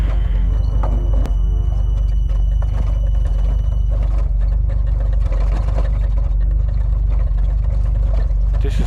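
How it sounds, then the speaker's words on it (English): A slow lift in the Hello Neighbor video game gives off a loud, steady, low mechanical hum and rumble that drones without a break throughout. "And now we ride this slow as lift"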